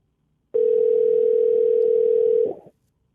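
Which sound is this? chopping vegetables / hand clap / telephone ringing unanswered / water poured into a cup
telephone ringing unanswered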